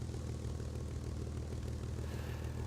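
A propeller airplane engine drones steadily in the War Thunder video game, a dense, constant roar with no breaks, heard alone at moderate volume.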